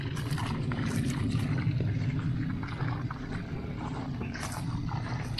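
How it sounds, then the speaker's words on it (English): An airlift pump system powered by a 12 volt solar setup runs with a continuous bubbling, gurgling water churn and a low steady hum, close and moderately loud, with no talking. "Here's the airlift pump system"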